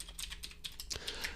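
Computer keyboard keys tapped in a quick, uneven run of soft clicks, fairly close and moderately quiet, with no voices over them.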